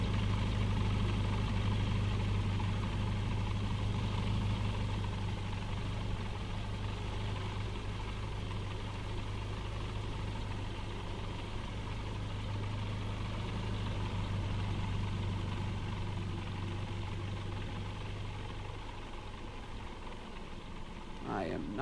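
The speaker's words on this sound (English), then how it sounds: "I am not good at controlling this drone" A drone in the Microsoft Flight Simulator game gives off a steady, continuous engine-like hum that holds throughout and wavers slightly near the end.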